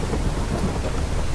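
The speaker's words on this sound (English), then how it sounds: "That is a thunderstorm." Thunder rolls through a rainy Minecraft thunderstorm, a dense, loud rumble mixed with hissing rain that stays constant throughout the short stretch, with no voices.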